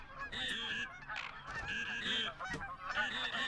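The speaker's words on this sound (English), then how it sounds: "I think these are just mallards by the looks of them." Mallard ducks call in the hunting video game theHunter, a run of repeated nasal honking quacks in uneven bursts, fairly close and clear, with several birds overlapping.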